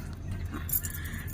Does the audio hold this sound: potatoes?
no